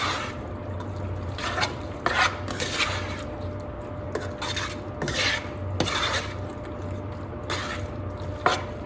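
Noodles with lemon juice are stirred and tossed in a pan for spicy lemon garlic turkey meatballs, giving steady close scraping and soft wet squishing over a constant sizzle-like hiss.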